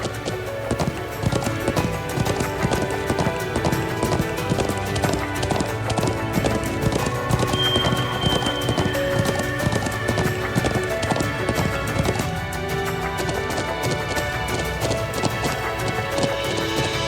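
Horse hooves clip-clopping at a steady riding gait in Trails of Cold Steel II, crossing the Nord Highlands, with a continuous rhythmic beat layered under music for the whole stretch.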